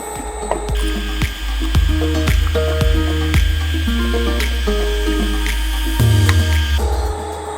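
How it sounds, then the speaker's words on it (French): A Sylco S520 professional soft-serve ice cream machine runs as its product is emptied out, with a low motor drone and a busy series of mechanical clicks, ratcheting knocks and clanks close by. "Et maintenant, on va pouvoir vider le produit."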